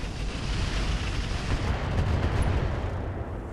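Mech weapons firing all at once in the RogueTech mod of BattleTech, a dense rumbling barrage of heavy booms and blasts that rolls continuously at steady loudness throughout.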